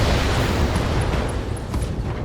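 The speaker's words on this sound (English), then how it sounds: "LRM explosion" An LRM missile barrage explodes in the Battletech video game as a dense, sustained roar of rumbling blast noise. It stays loud and steady throughout, with faint high tones flickering above it.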